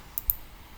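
Two quick, faint computer mouse clicks a fraction of a second apart, close to the mic in a quiet room, as the residents tab is selected in palCentre aged-care software.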